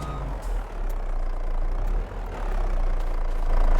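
A heavy truck engine idles and rumbles steadily in a farming video game, loud and low throughout, with no clear reversing beeps standing out.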